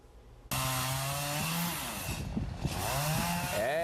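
A chainsaw bites into fallen tree branches after a sudden start, its engine whining steadily and then bogging and rising in pitch as it cuts through the wood, loud and close.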